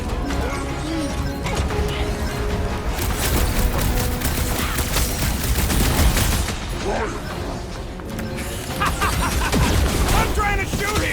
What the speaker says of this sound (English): I'm trying to shoot here!